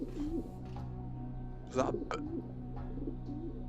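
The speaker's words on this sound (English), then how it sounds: "oh, pigeons!" Pigeons coo softly in The Talos Principle VR, a few low, gentle calls in a quiet setting, with a voice speaking briefly alongside.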